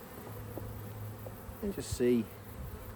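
Honey bees buzz in a low, steady drone around an opened backyard hive, with a few louder passes nearby as someone speaks briefly over them.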